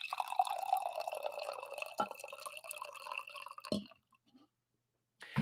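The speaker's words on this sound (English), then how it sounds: "I will give you a coffee pour instead" Coffee pours into a cup in a steady, close trickling stream that gurgles briefly, then stops, followed by near silence and a faint bump.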